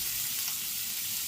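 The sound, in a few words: beef sausages sizzling while browning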